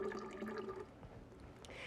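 Coconut water trickles briefly into a mixed drink with pineapple juice, a soft and faint liquid pour that fades into quiet.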